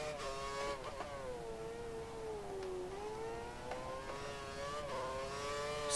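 Formula 1 car engine in F1 2013 at Estoril, a high whining tone rising and dipping steadily as the car accelerates, with brief gear-shift breaks, loud and continuous with no talking.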